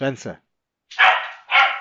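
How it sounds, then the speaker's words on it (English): A pet dog barks loudly and frantically at someone at the front door, two sharp harsh bursts close by, after a man's brief spoken word. "Oh, fucking dog. Going absolutely potty because there's a case at the door."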